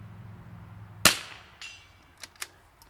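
One sharp, loud rifle shot cracks out, followed moments later by fainter metallic pings from a steel plate target struck at a distance, with a few small echoing taps trailing off.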